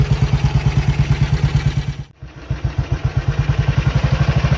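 A 1951 Matchless G80S single-cylinder motorcycle running in gear on its centre stand with the rear wheel off the ground, a loud steady thumping beat that dips briefly mid-clip before resuming its even rhythm.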